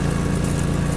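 Steady drone of a lawn mower engine in the Lawn Care Simulator video game, a loud, unchanging mid-pitched idle with no variation or popping across the moment.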